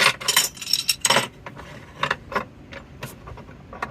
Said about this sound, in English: So what you do is undo the clip